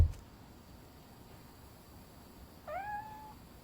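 A cat named Grumpy in the video game Robocop Rogue City lets out a single short, rising meow near the end, clear against quiet room tone.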